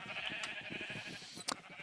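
Sheep bleat on a video game farm, a couple of short nasal calls with a sharper one near the end, over a steady high ambient hum and soft background clatter.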